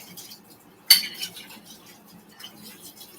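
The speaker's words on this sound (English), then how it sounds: "I'm just going to wash the bowl real quick." A mixing bowl being washed in a kitchen sink: one sharp clatter of the bowl against the sink, followed by soft rubbing and light knocks, fairly close.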